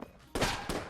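Rapid video-game gunfire from Enter the Gungeon: two sharp, loud bursts of shots, the first longer and the second starting just after it, with no talking.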